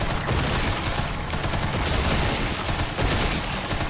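Machine gun fire in Resident Evil 9, a dense, continuous burst of rapid shots that stays loud and close throughout with no pauses or voices.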